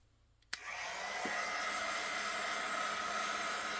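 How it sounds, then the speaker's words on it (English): A craft heat tool switches on with a sharp click and then blows hot air in a steady, loud whooshing hiss to dry craft work. It runs continuously with no talking. "Let's give this a little shot with the heat tool."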